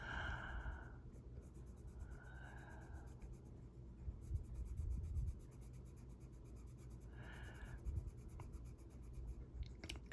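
A colored pencil scratches across paper in soft, steady strokes, quiet and close, with short bursts of higher scraping between gentler passages.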